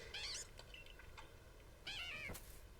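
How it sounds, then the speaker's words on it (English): Glameow, a cat Pokémon in Pokemon Legends Arceus, gives two clear rising-and-falling meows, faint and close, separated by a short pause over a low background hum. "Oh, its little meow is adorable as well."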